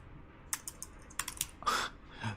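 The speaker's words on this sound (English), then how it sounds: "Typing the word card instead of the word item." Scattered keystrokes on a computer keyboard, a few quick taps then a short burst of clicks and a heavier clack, close and clear over a soft background hiss, with no voices.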